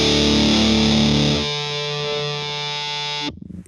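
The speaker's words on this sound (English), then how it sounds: "There's an A note up there that blooms out at the end of the section in that classic Strat Big Muff AC30 kind of way." Electric guitar through a Big Muff fuzz into a Vox AC30, a Strat's sustained A note swelling into feedback: a loud, thick distorted chord thins into one singing, ringing tone that holds steady, then cuts off abruptly near the end.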